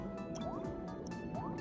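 Water dripping in a water level of the game Super Paper Mario, a quiet run of regular plinking drips with liquid bubbling over a soft, steady game background.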